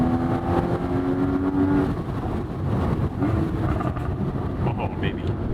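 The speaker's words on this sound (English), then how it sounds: "The sound of the 981 is also vastly superior than the 718" Porsche 981 engine running steadily and fairly loud with a rising rev tone, its drone heard under a voice for most of the clip.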